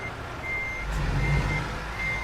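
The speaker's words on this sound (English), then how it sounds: "I've got a vehicle reversing now." Vehicle reversing beeps in American Truck Simulator, set in Los Angeles: a steady repeating electronic tone pulsing at a regular rhythm over a continuous low truck engine rumble, moderately loud, no talking.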